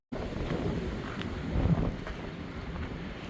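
Steady wind gusting and buffeting the microphone on a burnt-forest stretch of the Appalachian Trail in Virginia, a continuous low rumble that swells briefly in the middle, with no talk.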